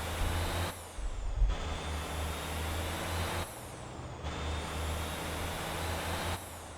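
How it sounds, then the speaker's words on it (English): A truck in the Motor Town driving game hisses with repeated bursts of its air brakes over a steady engine drone, with the hiss rising and cutting off in a regular cycle and no voices. "I might as well drive the truck there"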